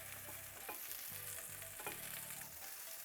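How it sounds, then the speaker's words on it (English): Chicken Alfredo sauce simmering in a pan while being stirred, giving a steady bubbling sizzle with soft scraping and clinks of the spoon, fairly quiet and without talk. "we're gonna give our Alfredo a nice stir. It's simmering beautifully"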